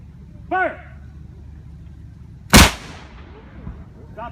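A Revolutionary War cannon fires once with a single loud, sharp boom that decays into a rumbling echo outdoors, after a brief whistle-like call just before.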